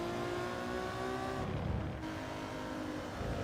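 A racing car in Gran Turismo 7, part of an Alfa challenge, revs high through an engine drone with a brief dip as it shifts gear, steady and fairly loud, with no talk over it.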